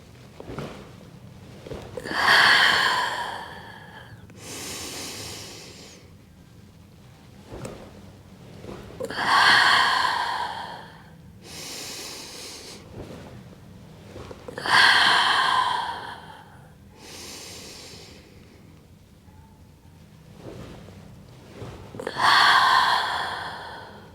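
Slow, deep human breaths during a hip stretching exercise: four long airy inhales alternating with softer exhales, evenly spaced every five seconds or so, close and clear with no talking.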